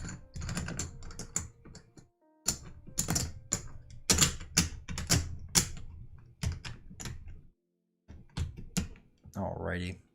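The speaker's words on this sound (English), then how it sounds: "And then I have to shuffle my 1s just to make sure that they're all shuffled back in" Game cards from the Too Many Bones board game are shuffled up close in rapid bursts of crisp, clattering riffles separated by short pauses, and a voice speaks briefly near the end.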